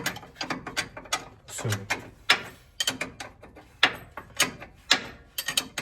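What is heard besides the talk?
ratchet tightening air ride suspension parts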